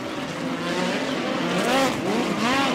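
Midget race cars roar past on the final lap at Valley Speedway, engines snarling at high revs with pitch sweeps as they pass close by, loud and continuous with no talking.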